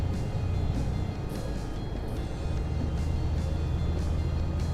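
A heavy truck engine drones low and steady in Euro Truck Simulator 2, holding a constant rumble as the truck pulls back onto the gas, with no talking over it.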